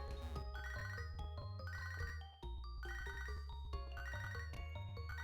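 A phone call rings in Pokémon HeartGold as a repeating electronic ringtone melody, its looping chime pattern cycling several times at moderate, steady volume over game music.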